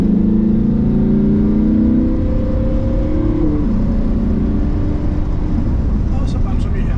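A Lamborghini Huracan accelerates at full throttle on a track, heard from inside as a loud, steady engine roar whose pitch climbs, dips at a gear change and climbs again.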